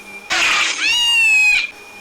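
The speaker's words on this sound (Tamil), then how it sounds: "கைஸ் பூனை சவுண்டு போடுறாங்க கைஸ்" A cartoonish cat meow from the mobile game Pikabuu: one drawn-out, rising-then-falling mew lasting about a second and a half, loud and close, with no talking over it.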